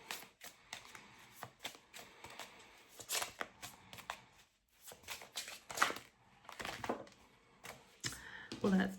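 A deck of tarot cards is shuffled in close, quiet bursts of riffling and flicking, with soft pauses between them and a voice speaking faintly over parts.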